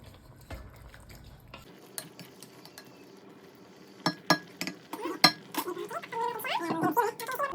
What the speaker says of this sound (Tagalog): haluin natin siya ng konti